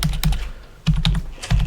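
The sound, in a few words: typing on a computer keyboard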